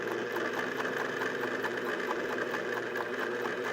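A loud vintage sewing machine runs steadily while stitching a quilt, its needle mechanism chattering in a fast, even mechanical rhythm close by with no pauses.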